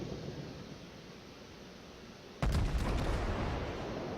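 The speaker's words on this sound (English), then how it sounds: "Oh, good volley." USS New Mexico battleship's main guns firing a volley in World of Warships, one sudden heavy boom midway after steady ambient hum, followed by a rumbling, crackling tail.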